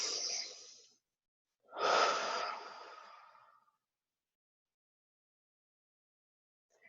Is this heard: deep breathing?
yes